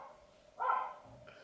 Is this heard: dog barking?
yes